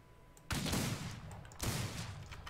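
Two loud bursts of rapid gunfire in the Wild West shooter Outlaws of the Old West crash in close together, each cutting in sharply and trailing off in a rumbling tail.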